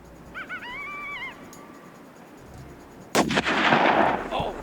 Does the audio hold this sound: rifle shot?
yes